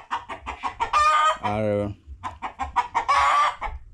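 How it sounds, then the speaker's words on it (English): Pigeons in a village coop call in throaty, rhythmic bursts, mixed with a couple of longer, louder cries. A voice speaks briefly under the birds. "So these are my pigeons."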